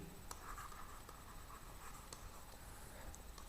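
Chalk or a marker scratches quietly across a board during a maths lesson, giving faint scraping strokes with a few sharp taps under steady room noise.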